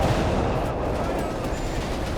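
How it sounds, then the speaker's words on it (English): Incendiary bombardment and gunfire at a bridge in Company of Heroes 3, a steady dense crackle of shots and blasts running the full length under a speaking voice. "Incendiary bombardment on the bridge here."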